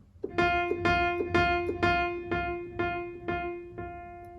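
Repeated piano F notes struck at a steady pace, about nine in a row, each one softer than the last, fading from mezzo-forte to pianissimo.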